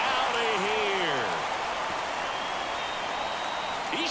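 Home crowd roaring after a home run in MLB The Show 24, Braves at Dodgers in an NLCS game, a loud sustained wash of cheering beneath an announcer's voice.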